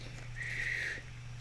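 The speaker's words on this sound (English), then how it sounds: "That was a really terrible attempt at a whistle." A person attempts a whistle during a tabletop board game session, producing one faint, wavering, breathy tone that lasts under a second over a steady low hum.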